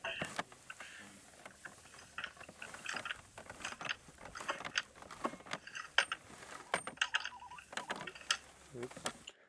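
Hay baler plunger and in-feed roller mechanism working, a busy stream of close clicks, ratcheting and clattering mechanical knocks with no clear rhythm.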